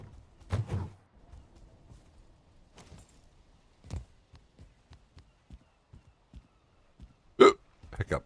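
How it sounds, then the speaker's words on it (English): A series of irregular hiccups pops out between soft thuds and faint background noise, with a couple of sharper, louder bursts near the end. "Hiccups."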